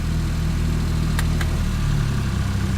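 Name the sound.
van engine as clutch is released and vehicle starts moving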